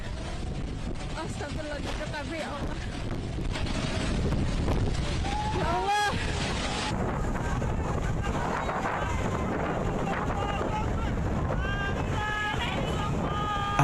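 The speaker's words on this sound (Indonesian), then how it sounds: "angin puting beliung menerjang Kecamatan Tayu dan Dukuh Seti di Pati, Jawa Tengah" Tornado winds tear through villages in Tayu district and Dukuh Seti, Pati, Central Java. Loud, constant roaring gusts buffet the microphone, with raised voices and shouting mixed into the din throughout.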